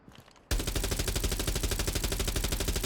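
Rapid automatic fire from a 417 rifle fitted with a compensator and horizontal grip in Rainbow Six Siege X, a steady burst of evenly spaced, punchy shots that starts abruptly and runs for a few seconds.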